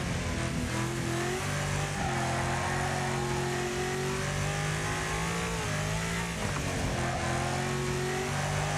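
A six-speed car's engine in the Wreckfest racing game revs hard and climbs through several gear changes, a loud, steady drone that drops briefly at each shift, with no voices.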